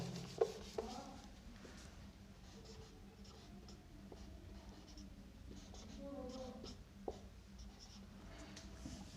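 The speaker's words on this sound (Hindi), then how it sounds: "देखो इनको मैं थोड़ा ऊपर लिख दूं" Marker or chalk scratching across a classroom board in steady, irregular strokes with a few sharp taps, close and fairly quiet against a faint room hum.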